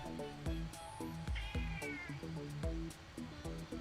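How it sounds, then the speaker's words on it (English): A pet cat meows during a video game session, its brief mewing cry rising over a steady backdrop of rhythmic game music with repeating bass beats. "it looks like my cat is still meowing at me"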